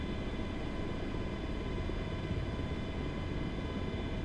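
Steady, even drone of an MH-60 helicopter's engine and rotor in a video game, a constant broadband rumble and whine held at low level without change.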